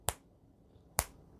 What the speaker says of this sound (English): I don't know if you can hear me snap my fingers